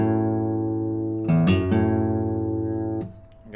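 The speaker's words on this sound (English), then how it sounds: "you play your open A string." A guitar's open A string rings out in a steady, sustained low note, with a couple of brief clicky string noises partway through and a fresh attack near the end as the note decays.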